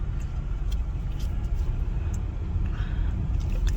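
A car rolls into a parking area near the Equator monument in Pontianak, its engine giving a steady, close, broadband rumble that carries on without a break and with no talking.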